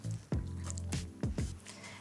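Salted, drained chopped wombok dropped into a mixing bowl, giving a few soft, wet squishing thuds in quick succession, close and fairly quiet.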